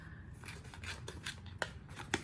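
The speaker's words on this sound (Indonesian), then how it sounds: "Biasanya aku bantu dengan gunting ya" Scissors snipping open a face mask packet, a close, quiet series of crisp cuts with a few sharper clicks of the blades near the end, and no voices.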